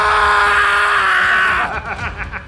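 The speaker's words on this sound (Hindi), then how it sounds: "वो जोर जोर से चिल्ला रहे थे" A man screams loudly in a horror story, one sustained, strained cry lasting over a second before it breaks into ragged, sobbing gasps.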